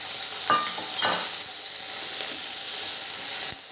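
Boiled whole green peas sautéing in a pan for samosa filling, a steady bright sizzle with a few scraping stirs and clinks near the start and end.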